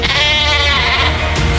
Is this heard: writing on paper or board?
no